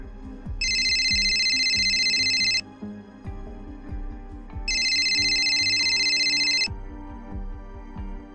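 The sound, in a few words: cell phone ringtone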